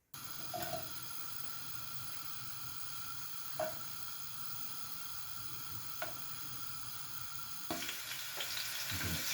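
A pan of curry with tomatoes, coconut milk and vegetable stock simmers with a steady, even sizzle, broken by a few faint clicks and stirring knocks, close by with no voices.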